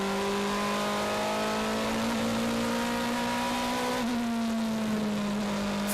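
A DTM touring race car laps the Spielberg circuit, its engine note a loud, steady high drone that climbs and sags slightly through the run, heard close and alone without talk.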